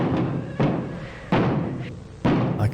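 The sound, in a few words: banging on a door in a video game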